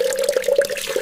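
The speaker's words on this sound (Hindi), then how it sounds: "चलो, अब पानी से सब्जियां धो लेती हूँ।" Water runs from a tap while vegetables are washed in a village home, a steady close splashing stream with a few small fluctuations.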